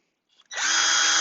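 A power drill boring a pilot hole spins up after a brief click and runs at a steady, loud, high whine, close by and alone.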